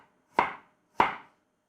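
Ginger roughly chopped with a knife on a board, heard as two crisp, evenly spaced chops, close and clear against silence.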